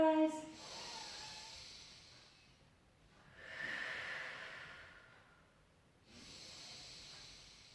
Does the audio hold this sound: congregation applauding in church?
no